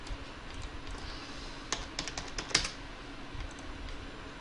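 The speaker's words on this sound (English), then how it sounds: "I'm typing in CTXS" Quiet typing on a computer keyboard, a sparse run of light key clicks with a couple of sharper taps, close and alone against faint room hiss.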